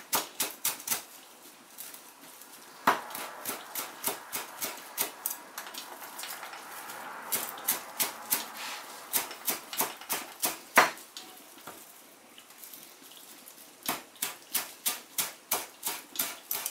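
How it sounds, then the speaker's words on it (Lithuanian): Thick stems are finely chopped with a knife on a board, a quick, steady run of sharp taps repeated in bursts with brief pauses between. "Ir taip pat reikia labai smulkiai supjaustyti."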